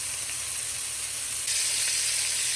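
Meat frying in a hot pan gives off a steady, close sizzle with broad hissing, growing slightly louder partway through.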